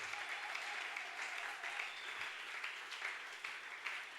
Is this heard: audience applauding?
yes